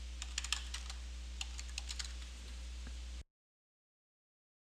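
Keystrokes on a computer keyboard, entering a password: a quick run of crisp, close clicks for about three seconds, then silence.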